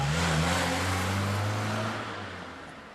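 An orange-coloured car drives off, its engine a steady broadband roar that holds loud and then gradually fades as it pulls away, with no talk.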